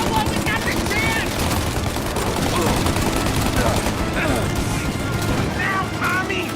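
Heavy, relentless gunfire rattles nonstop in the video game Mafia Definitive Edition during a countryside shootout, dense machine-gun bursts layered over one another, with shouting voices mixed in.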